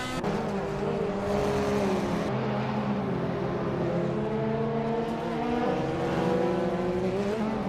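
A 2016 Mazda MX-5 Cup race car driving hard on the track, its engine droning loud and close the whole time, pitch rising and falling through shifts and corners.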